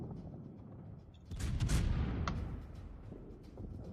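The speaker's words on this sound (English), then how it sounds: "why is our Zao firing high explosive at the broadside of an Ibuki?" A Zao cruiser in World of Warships fires high-explosive shells, a booming salvo swelling out of steady low battle rumble with a few sharp cracks, then settling back to the background roar.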